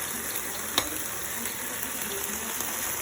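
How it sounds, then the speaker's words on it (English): Onion and garlic simmering in a sauce for crispy baby corn, a steady soft sizzle and bubbling throughout with one brief sharp clink near the start. "See, all the onion, garlic is simmering very nicely"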